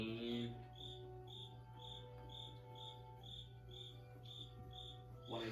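Steady, rhythmic cricket chirps repeat roughly twice a second over a low constant hum, with a brief voice at the start and end.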